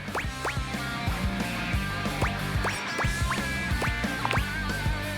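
A duck character in the game Date Everything quacks over and over in quick, loud, nasal bursts, sharp calls repeating across a busy musical game backdrop.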